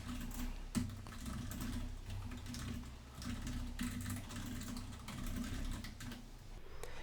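Rapid, steady clatter of typing on a computer keyboard, close and continuous over several seconds with brief pauses between bursts of keystrokes and no talk.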